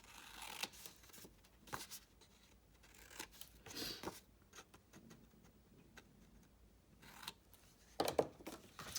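Scissors snip paper corners to miter them for a small handmade album pocket, giving a string of quiet, close, separate cutting clicks and rustles scattered irregularly over several seconds.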